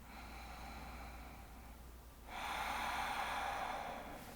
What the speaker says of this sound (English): Let's take another deep breath in.